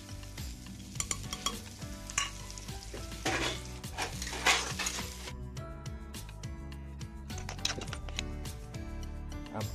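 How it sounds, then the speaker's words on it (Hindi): Onions dropped into a hot pan for a chickpea vegetable dish, sizzling steadily while a utensil scrapes and clinks against the pan in repeated stirring strokes, with a clear change in texture partway through. "फिर गर्म हो चुका है, इसमें प्याज डाल देते हैं।"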